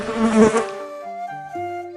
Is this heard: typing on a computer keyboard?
no